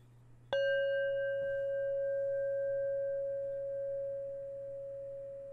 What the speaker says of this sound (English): this is just one Tibetan singing bowl right here